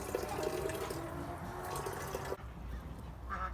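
Water runs steadily into a watering can for a garden of grape cuttings, a continuous gurgling flow that cuts off abruptly partway through, leaving quieter background.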